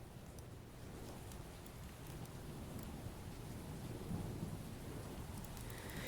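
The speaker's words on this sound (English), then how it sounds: "it does begin to storm" A thunderstorm with heavy, even rainfall hisses throughout, with low thunder rumbling underneath and swelling slightly toward the end; no voices.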